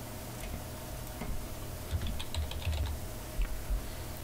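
Key presses on a computer keyboard, a quick run of taps with a few louder strokes, close and fairly quiet over a steady room hum, with no voices.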